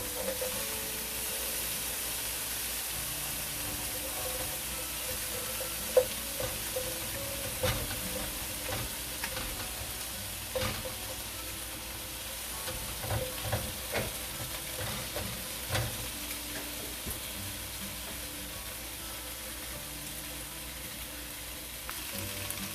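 Shrimp sauté in garlic butter in a pan, giving off a continuous sizzle with scattered pops and crackles and occasional scraping clinks as they are spread around.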